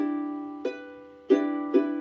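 A single B note plucked on the second fret of a guitar string rings out alone, followed by two more soft pluck attacks in a slow, sparse rhythm, each ringing on with steady sustain.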